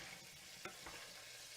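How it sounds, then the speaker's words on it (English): Anchovies melt in olive oil in a pan, giving a faint, steady sizzling hiss with a couple of soft stirring taps. "I'm going to melt them in this olive oil."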